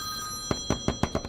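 A telephone rings in a quick run of about six short electronic bursts, fairly close and clear over a faint steady hum, with no talking.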